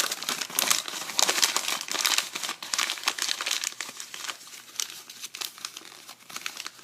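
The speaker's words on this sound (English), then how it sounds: "I'm going to cut this in half by using the side of the table to tear it" Tape is ripped against a table edge and rolled under, making a close series of loud crinkling, tearing bursts that come in irregular clusters and fade slightly toward the end.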